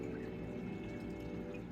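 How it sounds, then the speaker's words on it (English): Water pours steadily as a betta fish is tipped from its container into a 10-gallon planted tank, a continuous close splashing trickle without speech. "Now, all we need to do is pour the Betta in."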